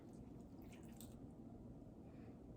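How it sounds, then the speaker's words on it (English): Water being poured into a pan of sliced yellow squash, a steady close splashing and gurgling that fills the moment without any talk. "let's go ahead and pour this water in here"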